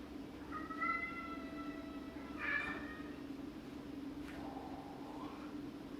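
A domestic cat meows indoors: one drawn-out, close meow followed by a shorter one, set against a steady low hum, with a faint later mewing sound.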